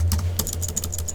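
Quick keystrokes on a computer keyboard, a close, crisp run of irregular clicks over a low steady hum.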